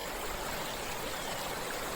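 Two rivers, the Surabhi and the Nandini, meet near a small dam in Uttarakhand, giving a steady, broad rush of flowing water that holds even and unbroken throughout, with no voices.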